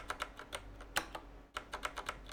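Computer keyboard typing sounds in quick, close clusters of crisp key clicks, one sharper keystroke standing out midway, with a short pause before another rapid burst, faint and alone in a quiet room.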